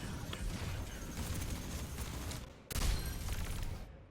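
Dense, continuous gunfire in an Overwatch match with Wrecking Ball, a steady loud barrage of rapid shots with a heavier burst near the end, no voices over it.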